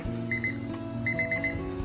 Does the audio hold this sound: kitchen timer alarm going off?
yes